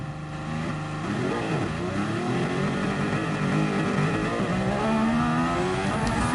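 A car in GT Sport driven in VR spins out, its engine revving and tires squealing in a sliding skid that holds steady for several seconds, with no talk.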